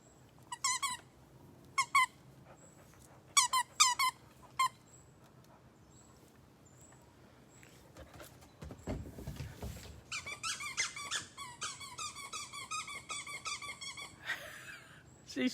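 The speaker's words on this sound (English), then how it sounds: "she's got a squeak toy" A dog chews a squeak toy, producing sharp squeaks in short clusters, then a breathy snuffling pause, then a long rapid run of squeaks close by.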